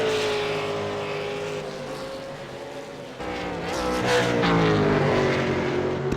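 V8 Supercar engines in a racing video game at the Zolder circuit, loud buzzing drone with climbing and falling pitch as cars rev and pass, a second car's note joining midway.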